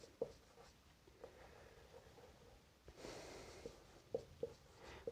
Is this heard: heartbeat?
no